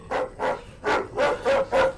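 A dog barks six times in quick succession, sharp woofs at an even rhythm, fairly close and loud with nothing else around them.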